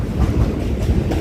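A New York subway train on a Brooklyn platform, loud and close, a dense rumbling roar with rhythmic rolling surges of wheels over track, no voices.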